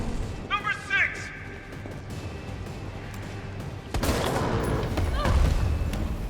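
Grenade rounds fired in Resident Evil 3 Remake during a boss fight land as thumping booms and crashing impacts, growing heavier after a sharp burst midway, with a voice talking over the action.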